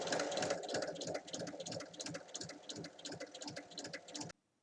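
A sewing machine stitches a pocket onto bag lining, its needle running in a quick, even rhythmic chatter up close, then cutting off abruptly near the end.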